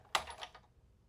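A die-cutting machine gives one sharp, close pop as its handle is cranked to cut a flower shape, followed by a short fading rattle and near silence.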